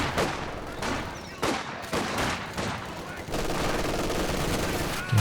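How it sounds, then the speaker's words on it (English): Machine-gun fire and explosions in Company of Heroes 2 come as repeated bursts of rapid shots that cut in and out. A steady rattle of battle noise and a voice run underneath. "MG in the building, making its presence felt."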